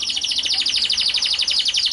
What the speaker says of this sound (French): ça chante autour de moi, c'est un truc de fou. Petit moineau du Japon là.